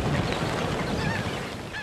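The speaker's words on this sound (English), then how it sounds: "Tens of thousands of migratory water birds winter here." Flocks of migratory water birds wintering in the San Quintin Bay wetlands of Baja California honk and call continuously in a dense, overlapping chorus, loud and close, under some wind.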